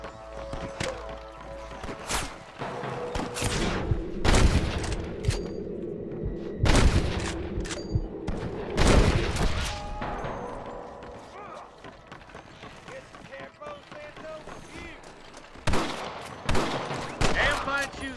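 Gunfire from a shootout in Red Dead Redemption, repeated sharp cracks and booming volleys in irregular bursts across the whole stretch, loud and close, with occasional voices in between.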